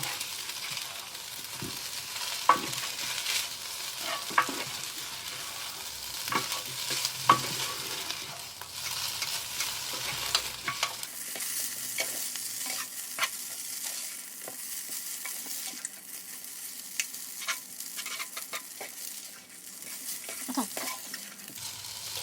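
Singapore chicken noodles stir-fry in a multicooker at 140 degrees, a steady close sizzle under repeated scraping and clattering stirs that runs throughout with no talk.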